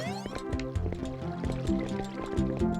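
Flowing water in the Dirty River stage of the video game Super Mario Sunshine, a steady gurgling, dripping liquid stream heard alongside the game's music, continuous and moderately close throughout.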